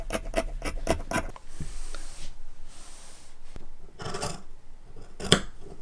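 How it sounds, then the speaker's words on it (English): Scissors snip through fabric along the outer pattern line for pajama pants in a quick run of close, crisp cuts, then slower sliding and rustling of cloth with a few more snips; no talking. "I'm just going to cut on the line, but just the outermost line first"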